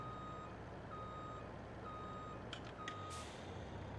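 In Farming Simulator 22, a truck backing up emits steady reversing beeps, evenly spaced single tones over a constant engine rumble, with a couple of short hissing bursts near the end.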